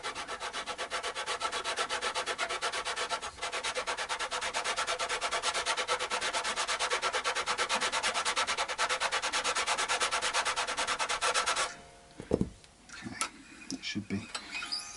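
Metal fret on an Epiphone ES339 guitar being filed down, a rapid, regular rasping of dense back-and-forth strokes, close and steady for about twelve seconds, then stopping with a few knocks and handling sounds.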